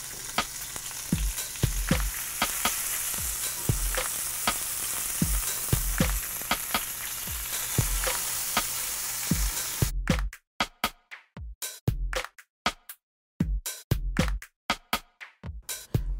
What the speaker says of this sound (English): I got some hot oil, and I'm going to throw them in there, get them nice and sizzled up